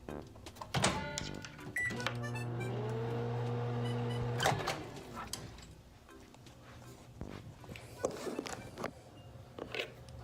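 A grimy microwave oven heating noodles gives a short steady electric hum of a couple of seconds, framed by clicks and clunks of handling and the door, with faint room noise afterward.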